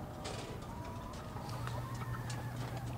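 Male broiler chicks chirp for their mothers in short, high, scattered peeps over a low background murmur, faint and fairly distant.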